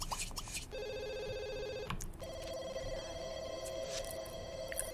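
A telephone ringing in The Sims 2, an electronic trill in two clear rings of about a second each, steady and close over faint game background sound.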